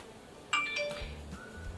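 A bright phone notification chime rings out in a few clear, bell-like tones, standing alone over a quiet background.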